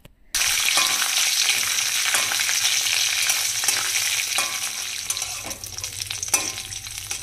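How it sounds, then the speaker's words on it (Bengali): Nuts and raisins fry in hot oil while being stirred, a loud, close, continuous sizzle with bursts of crackle and the scrape of stirring, beginning abruptly after a brief silent moment. "সেগুলোকে প্রথমে নাড়িয়ে চাড়িয়ে অল্প একটু ফ্রাই করে নিব।"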